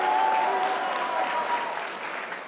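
An audience in a hall gives dense, steady applause that stays even for its whole length, with no voices rising above it.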